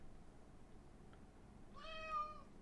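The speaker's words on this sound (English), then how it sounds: "My cat's trying to get some attention." A single pet cat meows once, a short harmonic call rising and falling, faint and moderately close against a quiet room.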